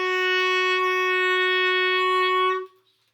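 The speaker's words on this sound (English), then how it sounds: "So clarinets, your A flat will sound like this." A clarinet holds a single A flat as a long, steady, clear tone for about two and a half seconds, then it cuts off cleanly into near silence.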